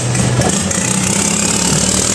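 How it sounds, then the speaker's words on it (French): A boat engine runs steadily on a canal at the Damnoen Saduak floating market while puffing black smoke, giving a loud, continuous low mechanical throb with a busy outdoor wash over it. "Oh, le moteur avec la pollution."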